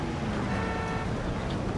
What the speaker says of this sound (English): That's the honking.